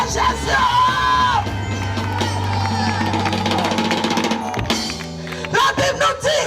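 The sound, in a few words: congregation shouting Alleluia Jesus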